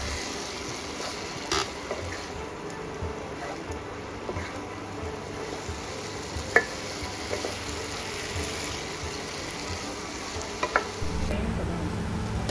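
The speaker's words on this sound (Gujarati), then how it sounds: "બધું જ સરસ રીતે આપણે મિક્સ કરી લેવાનું છે" Farali Chinese bhel being tossed with coriander and fried noodles, a soft continuous rustle with occasional light clicks from the utensil and no talking.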